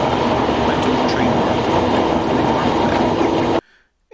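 A passenger train in Italy rumbles steadily and loudly from inside the carriage, a continuous dense roar with faint clicks, then cuts off abruptly near the end.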